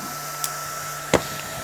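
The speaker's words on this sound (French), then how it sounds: "Il est bien le petit ventilo RC by J, hein." A small RC by J cooling fan spins fast and quietly as a steady, even whir with a faint hum, broken by a couple of brief clicks.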